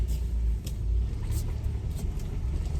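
Car engine and road rumble heard from inside a vehicle driving in the early morning, a steady low drone with slight swells, fairly close and continuous, with faint ticks above.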